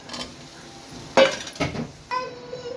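Bitter gourd pieces tumble into a pan of fried onion paste, giving a few sharp metallic clinks and scrapes of a spoon against the pan, close and brief, without talk.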